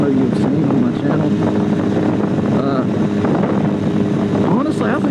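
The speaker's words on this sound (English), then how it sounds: "The Rebel 250 that I'm riding now" A Honda Rebel 250 motorcycle ridden on winter roads hums steadily under heavy wind rush, close and continuous, while the rider talks over it.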